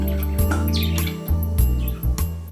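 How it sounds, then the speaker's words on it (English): Three pet birds chirping indoors: quick bright chirps and short tweets over a low steady hum, close and fairly loud. "So I have 3 birds here"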